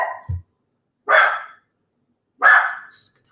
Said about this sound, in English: Dog. It might be UPS with another damn delivery.